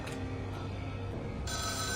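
A phone rings in the video game Schedule 1, a steady electronic ringtone over a constant background drone, with a brighter, higher tone cutting in toward the end.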